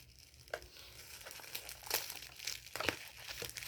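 A crinkly plastic package from Shein is handled and pulled open, producing irregular crackling and rustling with a few sharper crinkles, close up and fairly quiet.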